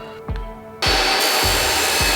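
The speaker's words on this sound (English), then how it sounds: "I'm going to cut the excess material off of here" An abrasive cutoff tool slices excess material off a round steel tube on a custom motorcycle frame, starting with a couple of brief taps, then a loud, steady, close grinding roar that carries on with small dips in pitch.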